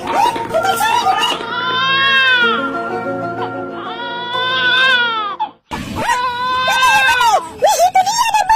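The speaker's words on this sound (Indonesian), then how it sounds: "Ada bayi kembar nangis." Twin babies crying with loud, close, drawn-out wails that rise and fall, pause briefly, then return in choppier sobbing cries.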